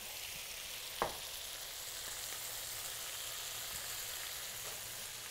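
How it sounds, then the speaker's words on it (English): Seasoned food sizzles steadily in a frying pan, a soft continuous hiss with one brief clack of a utensil near the start as it is stirred, fairly faint and without talk. "Give it a quick stir."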